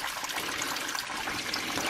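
Small waterfall trickling out of rocks beside a forest path, a steady close rushing and splashing of running water filling the whole moment with no pauses.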